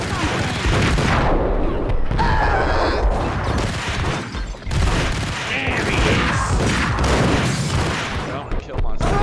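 A shootout in the video game Max Payne: dense, rapid gunfire with booming blasts and crashes, loud and nearly continuous, with brief lulls, while voices are mixed in.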